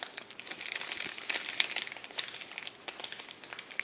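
Crinkly plastic wrapper being peeled and crumpled off a new deck of playing cards, close and soft, with steady rustling and small crackles throughout.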